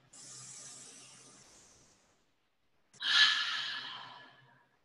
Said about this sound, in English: We can breathe together.